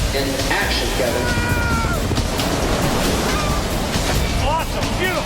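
Water surging and crashing in a wave tank built on a film set, a continuous loud rushing wash with voices calling out over it.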